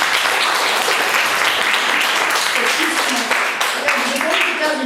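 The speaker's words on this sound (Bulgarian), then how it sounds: "искам да му ръкопляскам" Sustained applause from a crowd at a school open lesson, dense clapping that carries steadily throughout with voices talking over it.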